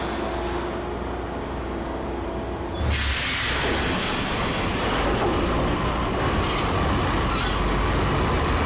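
A subway train in the Max Payne video game station rumbles loudly and steadily, then surges with a burst of squealing wheels and clattering carriages that keeps roaring at close range.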